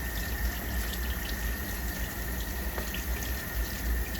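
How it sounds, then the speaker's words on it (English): A glove is rinsed under running tap water, giving a steady, loud rush of flowing water that continues evenly for a few seconds without speech. "They wash off this glove here"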